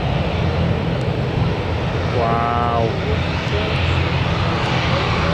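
Jet2 airliner engines rumble loudly at Newcastle Airport, a steady broad roar filling the whole clip with a brief rising whine in the middle; a voice speaks briefly over it.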